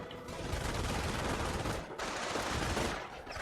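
Heavy machine gun fire in a wartime shooter video game: dense, continuous automatic bursts with a brief break near the middle, loud and rough, filling the entire clip.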